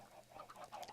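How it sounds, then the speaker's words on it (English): Minecraft chickens cluck faintly in a game, a few soft, quiet clucks in quick succession. "And down here we can hear that his chicken's still going."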